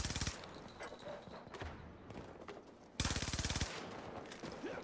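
Gunfire in the game Battlefield: two rapid automatic bursts, one at the start and one midway, stand over a constant noisy background of distant shooting.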